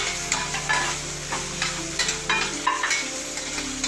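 A spoon stirs and scrapes through a thick batter of mixed dosa ingredients with green chilli, repeated wet scraping strokes at a steady rhythm, close-up against a low background hum.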